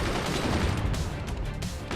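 Machine-gun fire from a fort in the physics strategy game Forts, shooting down incoming shells: dense continuous rattling bursts of gunfire with booming low rumble throughout, loud and busy with no pauses.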